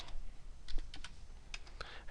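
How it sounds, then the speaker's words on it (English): Typing on a computer keyboard during a PowerPoint lesson, irregular clusters of crisp key clicks heard close up, with a few louder taps standing out over quiet room noise. "now I'm going to type charts"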